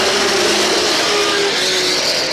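Race cars at Star Speedway accelerate hard out of turn 4 after a caution, a loud continuous roar of several engines blending together with rising pitch, filling the whole stretch with no voices.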